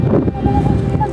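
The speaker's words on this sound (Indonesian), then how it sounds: "cuacanya juga badai, angin, kabut, badai luar biasa" Strong gusting wind in a storm near the summit cliffs of Mount Sumbing, roaring steadily and buffeting the microphone in a loud, rumbling rush.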